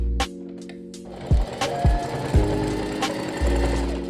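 A sewing machine runs in short bursts while stitching together the pieces of a boro jacket. The stitching comes close and fairly loud, with pauses and a steady mechanical hum between the runs.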